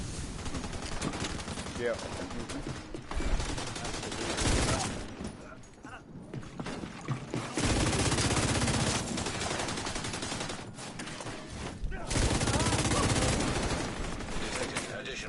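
Sustained gunfire and automatic weapon bursts from the shooter video game The Division 2, loud and dense across the whole stretch with brief lulls, while voices speak over the action.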